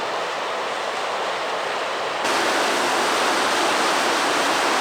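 Waterfalls along Shadow Creek in the High Sierra give a steady, broadband roar of rushing water that swells noticeably louder about halfway through, with no voices.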